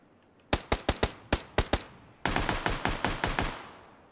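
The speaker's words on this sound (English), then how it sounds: "Here come the shots." Rapid gunshots ring out during a competitive PUBG match, first a spaced burst of about eight sharp cracks, then a denser run of reverberant shots with echoing tails, fairly loud and close.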